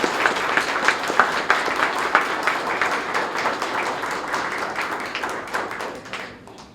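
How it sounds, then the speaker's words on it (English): An audience at a police awards ceremony applauds with sustained, dense clapping at steady volume that slowly thins and fades out near the end. "Let's give them all a round of applause."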